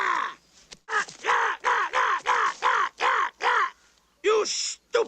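Kihar, a cartoon bird in the 1978 animated film Watership Down, squawks in a run of loud, rhythmic, harsh caw-like cries, close and repeated about eight times with short gaps, a final pair after a pause.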